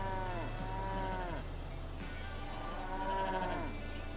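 Cows in the video game Trader Life Simulator moo several times. Long, drawn-out, falling calls overlap one another close by over a constant low background hum.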